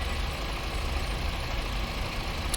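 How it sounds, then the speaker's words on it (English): A VDL 148 coach engine idling in the game Fernbus Simulator, a steady low rumbling idle heard close and unbroken, with a faint brief click at the end. "I can leave the engine running"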